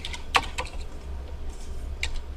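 Typing on a computer keyboard, a handful of light, irregular key clicks close by, separated by short pauses, with no voices.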